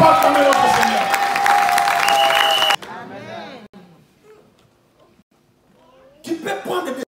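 A church congregation at a Sunday service applauds and cheers loudly in praise of the Lord, sustained clapping and shouts that cut off abruptly, leaving quiet with scattered voices before another burst of crowd noise rises at the end.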